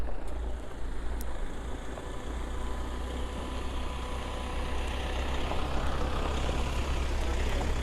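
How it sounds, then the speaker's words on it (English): Steady heavy road traffic on a road near Jalapa, a continuous low engine rumble and broad roar of vehicles going by at close range, with faint higher tones and no talking. "There's some cars coming"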